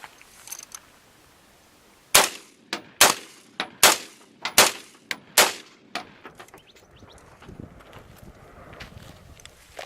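A 1969–1971 M16/AR-15 rifle chambered in .223/5.56 fires outdoors into a dirt berm, a sharp, loud string of about ten rapid single shots with short gaps between them, followed by quiet ambience.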